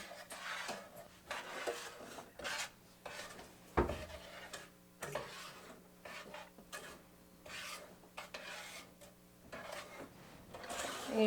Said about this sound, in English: and you just want to keep mixing it